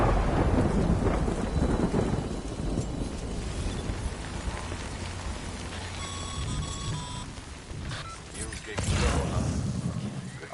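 Rain and rolling thunder in the video game Death Stranding, a steady downpour hiss with deep rumbles swelling and fading, a brief electronic tone partway through, and a voice talking over it.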